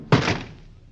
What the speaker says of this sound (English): Baldy kicked the door shut